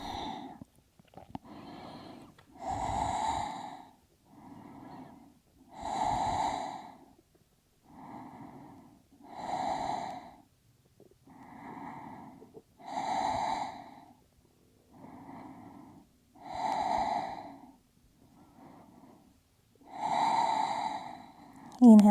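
Slow, deep rhythmic breathing of a person holding a reclined forward fold yoga pose, audible inhales and exhales alternating evenly, close and fairly loud.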